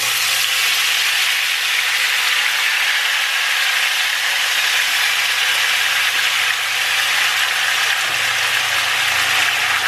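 Potatoes frying in hot oil in a pan, a steady, dense, loud sizzle that holds evenly throughout with a faint low hum underneath and no voices.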